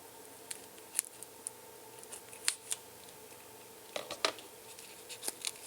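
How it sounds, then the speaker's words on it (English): Scissors snip through tape on a eurorack VCO module kit, a string of small crisp cuts and clicks, fairly quiet and close, scattered irregularly over a faint hum. "Let me cut the tape off because I can't do what I want to do"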